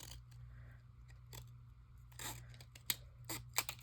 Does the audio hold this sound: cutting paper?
yes